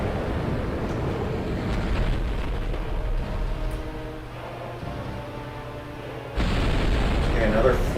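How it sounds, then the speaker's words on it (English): Roaring, rumbling rush of a boss's fire breath attack in Dark Souls, a loud sustained blast of flame that swells again sharply near the end, with no talking. "he's going for more fire breath"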